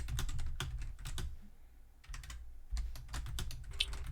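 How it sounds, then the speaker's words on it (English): Keys clatter on a computer keyboard in quick bursts of rapid clicks, broken by a short pause before the typing resumes, close and fairly clear with no voices over it. "I'm already typing something"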